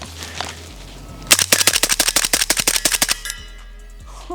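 A suppressed MP5 SD submachine gun fires 115 grain subsonic 9mm rounds in a rapid burst of about fifteen sharp, evenly spaced shots, loud and close, followed by quiet.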